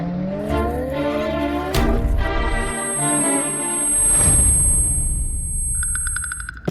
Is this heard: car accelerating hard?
yes